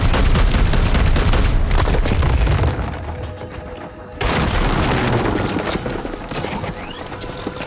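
Heavy weapons fire in Chaos Gate Daemonhunter, a Warhammer 40,000 tactics game: loud, dense booming blasts and crashes roll on continuously, dip briefly near the middle, then return at full strength.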